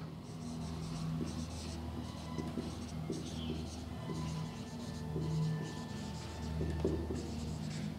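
Marker or chalk strokes scratch across a board in short repeated bursts as an equation is written during a differential equations lecture, with a low background hum.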